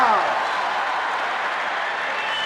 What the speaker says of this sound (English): listen to this crowd